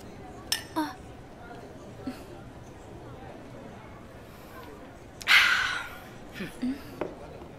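Drinking glasses clink together in a toast: a couple of light taps early on, then one bright, ringing clink, all over a murmur of indoor room noise.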